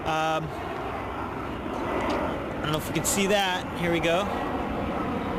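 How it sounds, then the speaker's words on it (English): A blue-bottomed white airliner on its standard approach to land at Reagan National gives a steady, broad engine roar, with people talking over it throughout. "here's a plane making the typical approach right here"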